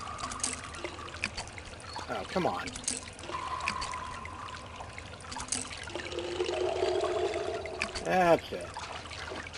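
Water pours and trickles from a fountain in an Indiana Jones video game, a splashy flow that rises and falls beneath a man's occasional spoken remarks.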